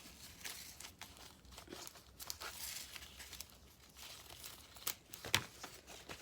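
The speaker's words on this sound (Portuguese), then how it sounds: "Eu vou tá passando agora a fita crepe, que eu quero forrar ela com a fita crepe." Masking tape being torn and pressed onto a papier-mâché alebrije form, close crinkling and rustling with a few sharp tearing rips near the end, quiet and continuous.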